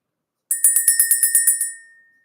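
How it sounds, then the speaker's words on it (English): Small handheld bell shaken to clear energy, giving a rapid run of about nine bright metallic rings in steady rhythm, close and loud, then a short ringing decay, with no voices. "Let's ring the bell."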